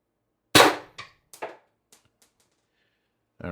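A single sharp shot from an X-68 Stormtrooper blaster running on 800 psi HPA, a loud crack followed by several fading clicks and rattles. A short breathy sound enters near the end.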